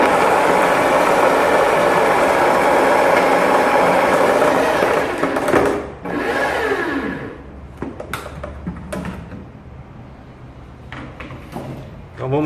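A Bosch electric drill milling malt at its second-slowest speed whirs loud and steady for about six seconds, then spins down and stops, followed by scattered clicks and rattles of grain and equipment.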